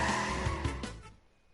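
A kart drifts in Crash Team Racing Nitro-Fueled with a loud, close tire squeal and engine whine lasting about a second before cutting off into near silence.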